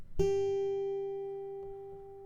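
A single G note plucked on a guitar's thinnest string at the third fret rings out clearly and decays slowly, with a faint second pluck near the end, quiet and alone.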